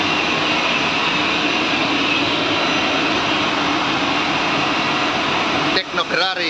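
A Tecno Ferrari Viva Jet eight-jet inkjet tile printer runs 60 by 120 tiles on its belt, producing a loud, steady, broad mechanical roar that fills the space, with a brief voice breaking through near the end.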